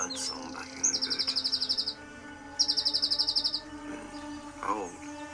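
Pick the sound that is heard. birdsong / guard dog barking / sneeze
birdsong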